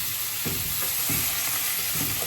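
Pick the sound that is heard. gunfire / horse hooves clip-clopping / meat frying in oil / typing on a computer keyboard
meat frying in oil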